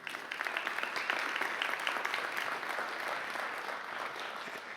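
Audience applause welcoming a speaker to the stage, a steady, dense wash of clapping from a full crowd, loud and sustained throughout with no break.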